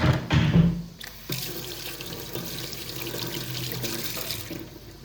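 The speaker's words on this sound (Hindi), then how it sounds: "हैंड वॉश कर लेते हैं।" A kitchen tap runs steadily as hands are washed beneath it, with splashing and a brief clatter at the start, then a constant, moderately quiet water stream, no talking.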